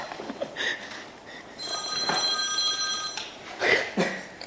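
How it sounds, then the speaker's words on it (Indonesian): A mobile phone rings with a steady electronic tone lasting under two seconds in the middle, surrounded by soft muffled sounds and brief noises from nearby. "bunyi lagi HP itu"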